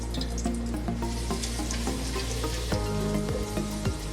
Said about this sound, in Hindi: अब इस ऑयल में मैं डालूँ गार्लिक पेस्ट,